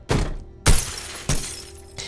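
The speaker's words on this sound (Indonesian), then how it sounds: "Jess kembali lagi memasuki lift dan dia merasa stres hingga memecahkan kaca lift" Elevator glass smashed in a film scene, three sharp shattering crashes about half a second apart, each ringing out and decaying, the last one softer.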